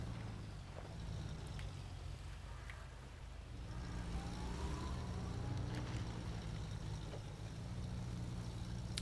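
Truck engine in the off-road driving game SnowRunner, a steady low rumbling drone that swells slightly as the throttle is worked, with faint wind-like noise and a few brief clicks over it; no talking.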